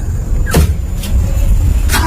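A car is started in a dark basement parking area, with a steady low engine rumble and several short mechanical clunks and rattles close by.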